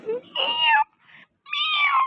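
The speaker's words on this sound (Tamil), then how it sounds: "சத்தம் கேக்குதா? அந்த பூனைக்குட்டி இங்க வந்துருச்சு." A kitten in the video game Ice Scream meows twice, a drawn-out, wavering cry followed after a short pause by a second, similar meow, close and clear with no talking.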